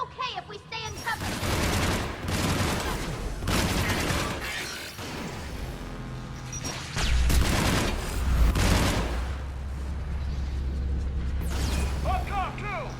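A big gun fires with heavy shockwave blasts in the video game Mass Effect 3, on a Geth Dreadnought mission: loud repeated booms and crackling bursts fill the scene, with voices shouting between the blasts.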